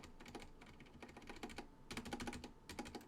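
A computer keyboard's shift key tapped repeatedly in quick bursts, a faint close run of light plastic clicks with short pauses between groups.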